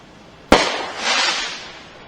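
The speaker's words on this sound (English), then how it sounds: "they're already setting off fireworks" Fireworks set off outdoors around the 4th of July: one sharp, loud bang, then a long crackling, hissing burst that swells and slowly fades, with no talk.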